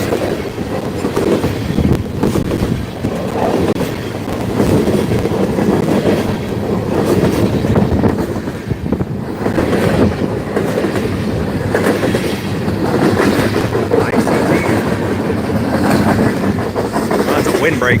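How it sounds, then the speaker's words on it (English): Train rolling past outdoors in Emmett, Michigan, with steady rail rumble and rhythmic clickety-clack of wheels on track throughout, fairly loud and continuous, with faint voices now and then underneath. "there was a train passing behind me"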